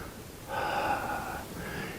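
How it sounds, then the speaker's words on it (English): A person exhales slowly and audibly during a gentle tai chi walking practice for seniors, one soft breathy outflow of about a second, close and alone with no talk. "Compress and exhale."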